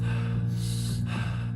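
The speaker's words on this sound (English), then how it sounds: "The breathing will be in through the nose, out through the mouth at 2 different paces." Fast, energizing breathwork breaths, drawn in through the nose and pushed out through the mouth, form two soft rushing bursts over a steady low droning tone.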